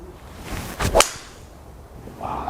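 A TaylorMade SIM Max fairway wood strikes a golf ball on the course, one sharp crisp impact followed by a brief whoosh as the ball flies off, alone and close.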